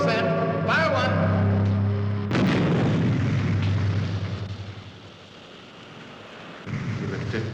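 A gun fires once with a sudden heavy boom that rolls into a long, rumbling decay, cutting through a steady droning hum that returns as the rumble fades.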